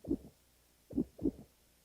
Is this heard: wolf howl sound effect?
no